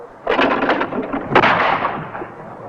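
Two shotgun blasts ring out at grouse during a grouse shoot, loud booming reports about a second apart, each trailing off into a rolling echo across open moorland.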